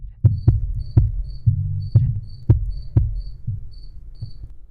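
A cricket in a garage chirps in short, faint, evenly spaced bursts, nearly drowned out by loud, heavy thudding beats.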